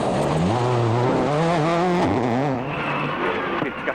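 Richard Burns' rally car blasting along a special stage with its engine running dangerously hot, loud and close with continuous revving that climbs and drops through gear changes, no voices over it.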